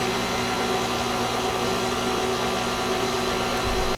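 A stand mixer kneads hamburger bun dough with a loud, steady motor drone that holds unbroken and nearby until it cuts off at the very end.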